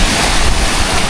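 Sea waves washing in at a shoreline while wind rushes across the microphone, a steady, loud, unbroken roar with no voices.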